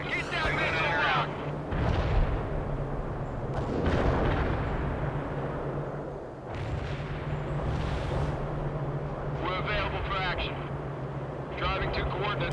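Artillery strike in the World in Conflict war game: heavy, booming impacts and broad rumbling blasts roll through the clip, with brief crackling bursts, mixed under radio-style voice chatter.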